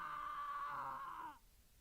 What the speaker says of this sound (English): A faint resonating scream fills my ears